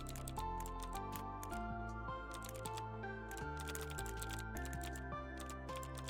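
Rapid typing on a computer keyboard, irregular bursts of clicking keystrokes with short pauses, close and clear over a continuous backdrop of steady game music.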